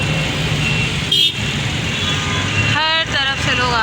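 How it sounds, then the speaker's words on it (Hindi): Heavy, congested street traffic rumbles steadily up close as engines drone, and two short car-horn honks cut through, one brief toot and then a wavering longer one. "अभी भी यहाँ पे देखें कितना ट्रैफिक है"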